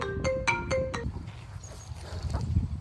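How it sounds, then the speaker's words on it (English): A mobile phone ringtone sounds outdoors at an allotment during fruit-bed work, four bright melodic bursts in quick succession followed by quieter background rustle and low outdoor noise. "Typical that halfway through filming somebody calls."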